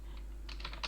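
Computer keyboard keys tapped while typing Python code, a short quiet burst of a few clicks near the end, close and alone.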